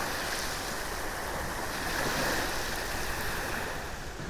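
Waves wash steadily onto the sand at Scarborough's South Bay beach, a continuous soft surf roar with some wind rumble and no voices.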